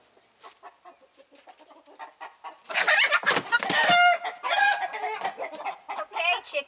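Chickens in a barn converted into a coop cluck and squawk loudly and close by, a rising burst of excited fowl calls, with a quiet voice murmuring softly early on.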